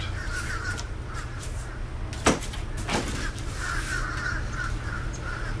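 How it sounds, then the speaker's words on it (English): Several crows caw repeatedly at moderate distance over a steady low background hum, with a sharp knock or door-like thud partway through; no one speaks. "Man, I got so many crows around here lately."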